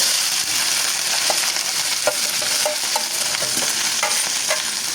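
Okra sizzles and fries in hot oil with browned cumin, a loud continuous crackle broken by scattered stirring clicks and scrapes of a utensil in the pan.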